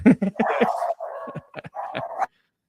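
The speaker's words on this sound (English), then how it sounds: "I know the dog's barking" A dog barks and yips in a quick series of close, loud, uneven bursts, some drawn out into whiny tones, then falls silent.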